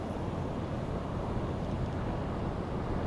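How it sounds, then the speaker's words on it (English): Surfaced U-boat in the game UBOAT cruising on its diesel engines, giving a steady, dense low rumble with wind and sea wash blended in, constant and fairly close throughout, with no talk. "Switch to diesel engines."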